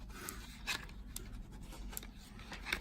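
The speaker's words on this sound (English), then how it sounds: "Just sketch around it so you can still see it whilst you cut in" A pencil lightly sketches an outline onto gasket material for a Piaggio NRG MC3 scooter, soft, close scratchy strokes in short bursts with quiet pauses between them.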